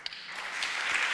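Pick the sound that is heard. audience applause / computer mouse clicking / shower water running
audience applause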